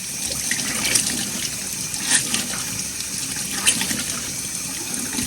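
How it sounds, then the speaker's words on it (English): Excess water is squeezed out of a soaked object, giving a steady close splashing and trickling stream with a few brief louder gushes, no talking. "Squeeze all the excess water out."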